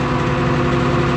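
John Deere 7520 tractor with an out-of-time injection pump, its diesel engine running at a steady idle, a close, continuous low rumble.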